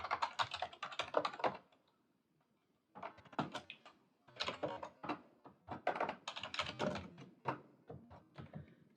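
Someone types a basic C program into a main.c file on a computer keyboard. Dense, close bursts of rapid keystrokes are split by a short silent pause.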